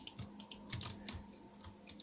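Computer keyboard typing in quick irregular bursts of light clicks, steady and fairly quiet, with no voices, while playing a mine-themed adventure game.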